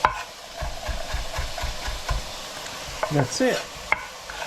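Peppers, onions and carrots sizzle in a pan while a utensil stirs them in a quick repeating rhythm, up close, and a voice speaks briefly near the end.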